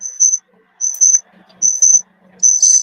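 A cricket chirps in four evenly spaced bursts, each a bright doubled trill, near and clear over a quiet background with faint low murmuring.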